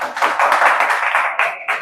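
Audience in a classroom clapping loudly, dense fast applause from many hands with a brief dip near the end, close and continuous.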